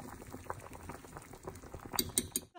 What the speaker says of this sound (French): Laissez mijoter tout ça et on y revient